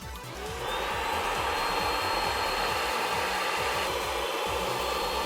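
An Iris Ohyama RNS-P10-W rinser cleaner draws air through its nozzle, a steady loud whining suction roar that rises after a brief start and holds constant up close.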